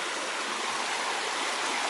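River water rushing past during a bushcraft camp trip, a loud, even broadband roar with no pauses and no voices over it.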